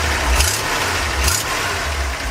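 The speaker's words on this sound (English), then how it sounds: "Has an exhaust leak. And the exhaust leak is up somewhere by the exhaust manifold" A 1965 Ford cabover truck engine runs steadily with an exhaust leak near the exhaust manifold, a low loud rumbling idle with a continuous throb, no voices.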